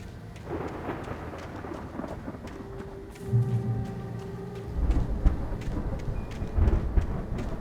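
A thunderstorm rumbles through a dark forest in the video game Alan Wake Remastered, with steady rain hissing throughout and deep thunder rolling in at moments, the rumbles swelling loud and low.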